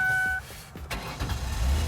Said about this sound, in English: let's see if the car starts